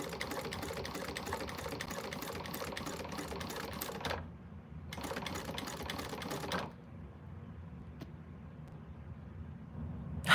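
A sewing machine stitching a quilt whirs in fast, continuous bursts, stopping briefly and resuming before falling to a quieter hum, close by with no talking.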